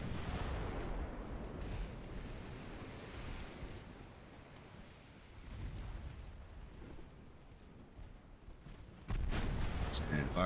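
Warship guns fire in the naval battle game Ultimate Admiral: Dreadnoughts, with an 1890 German fleet. Low rumbling rolls over constant surf and wind, and a sharper blast arrives near the end, with a voice talking over it.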